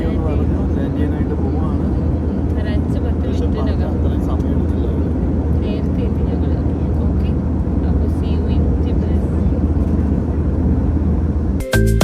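A passenger jet descends to land on a flight from Dubai to Tbilisi, its engines a steady, loud cabin drone that fills the whole stretch without pause.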